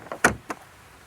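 Rear doors of a Genesis GV60 electric car opening: a couple of quick mechanical clicks and a latch thunk close by, then quiet.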